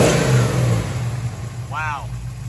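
A 1973 Dodge Challenger big block engine runs close by, rumbling at a steady idle with a revving swell, while a voice speaks over it.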